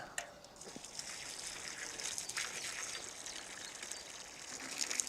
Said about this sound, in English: The first is to give each plant a really good water.